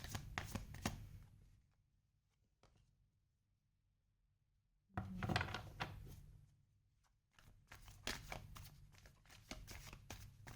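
Tarot cards being shuffled give quiet, rapid riffling and flicking in bursts, broken by a near-silent pause before two more rounds of soft card handling.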